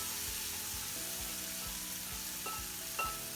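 Mushrooms hit a hot pan and sizzle in a steady, broad hiss, with a few soft knocks and clinks of handling over the continuous frying noise.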